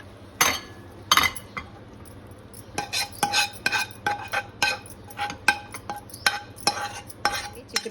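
A spoon scraping and clinking against a pan and bowl as broad bean curry with onion masala is served out, a series of sharp close metallic knocks in an irregular rhythm with no talking.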